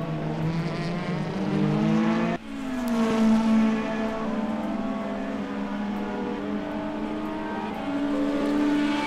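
DTM race cars lapping a track during a race broadcast, a loud, continuous engine scream with gear changes and shifting revs, one car's note dropping abruptly partway through, no talk.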